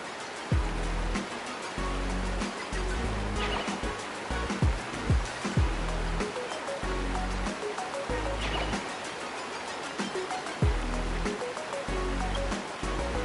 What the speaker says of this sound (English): water just started gushing out everywhere